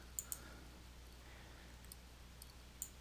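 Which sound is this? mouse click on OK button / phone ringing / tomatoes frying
mouse click on OK button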